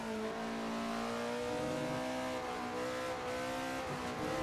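A Lamborghini Sesto Elemento hypercar engine revs hard in Assetto Corsa, a loud, continuous high-revving drone with slight pitch shifts as it is driven with heel-and-toe downshifts.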